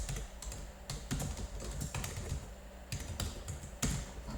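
Rapid, close keystrokes on a computer keyboard as a word is typed out, irregular clicks in short bursts with brief pauses, quiet and unaccompanied by speech.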